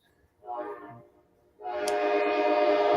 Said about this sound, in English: Like, they blow the horn.